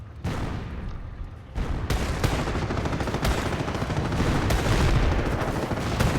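Anti-tank rifles firing at a Panzer IV in a Company of Heroes battle, dense overlapping gunshots and booms with sharp cracks at irregular intervals, loud and close amid a continuous din of combat.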